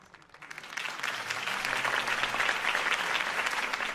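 An audience bursts into applause after a campaign speech, the clapping swelling quickly from quiet to a sustained, dense, even roar of many hands.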